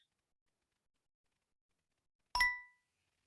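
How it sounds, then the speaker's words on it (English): A computer notification chime rings once, a single short bright ding against near silence that fades quickly. "Did you see that notification that came up?"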